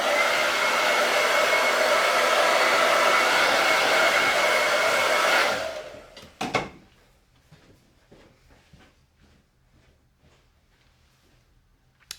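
A hair dryer blows loudly and steadily to dry chalk paste, then switches off after about five seconds, followed by a clack and faint handling noises in a quiet room.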